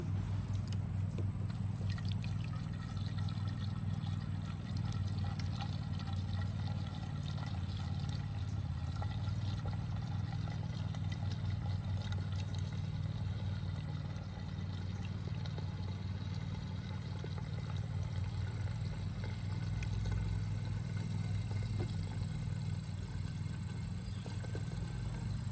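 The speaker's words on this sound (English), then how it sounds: "I got me a watering can, and I'm going to put some water in the water reservoir" Water pours steadily from a watering can into the reservoir of an Earthbox garden planter outdoors, a continuous rushing trickle lasting the whole stretch under a constant low rumbling background.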